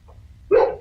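A dog gives a single sharp bark close to the microphone of a remote city council meeting, after a moment of quiet room hum.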